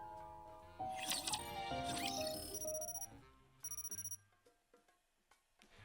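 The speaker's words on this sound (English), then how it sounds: "The alarm blares through my room" An alarm clock in Goddess of Victory: NIKKE rings with bright, rapid trilling bursts over a burst of music, then cuts off and leaves quieter scattered clicks and tones.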